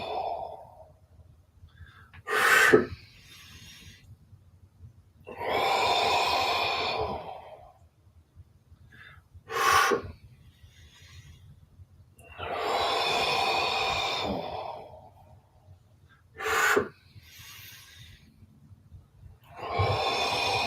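Slow, deep breaths during a live tai chi class alternate with quiet pauses, each long airy inhale or exhale swelling and fading, broken by a few short sharp sniffs or snorts spaced several seconds apart.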